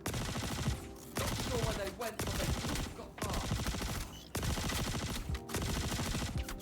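Rapid video-game gunfire in a firefight: bursts of automatic shots in several long volleys separated by brief pauses, loud and close, with no talking.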